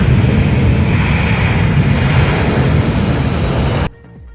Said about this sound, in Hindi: भारतीय वायुसेना का C-70 विमान, जिसने आज सुबह अफगानिस्तान के काबुल से उड़ान भरी थी, वो गाजियाबाद के हिंडन एयरफोर्स बेस पर उतरा